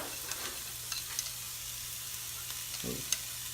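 Chopped yellow onion and fresh jalapeno fry quietly in a soup pot, a soft, low, continuous sizzle with a brief stirring scrape near the end.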